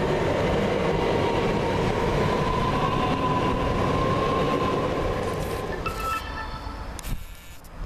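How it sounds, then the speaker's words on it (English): A Class 377 electric train pulls out of Havant station, running from Brighton toward Portsmouth Harbour; a loud, broad rumble with a faint motor whine fades over several seconds, leaving quieter station ambience with no talking. "Now leaving the 1405 service from Brighton to Portsmouth Harbour, 377-406."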